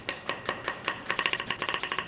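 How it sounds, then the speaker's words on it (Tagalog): Knife chopping onions and tomatoes on a board for sinigang, a steady run of crisp close taps that speed up into a quicker rhythm partway through, with no talk. "So ngayon, maghihiwa na tayo ng sibuyas kamatis na standard naman talaga sa lahat ng sinigang."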